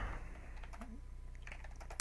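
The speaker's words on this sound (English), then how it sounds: "we're going to start typing now." Fingers tap away at a computer keyboard in quick, uneven bursts of light clicks, fairly faint over a low background hum, with a small cluster of louder keystrokes near the end.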